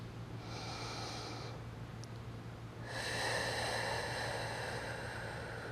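Deep, steady breathing during a core yoga session, a long noisy exhale followed after a pause by a fuller, louder breath with a low steady hum beneath, no talk.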